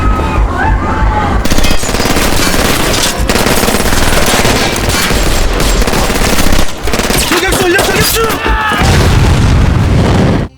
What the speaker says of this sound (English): Wei Hong's henchmen opened fire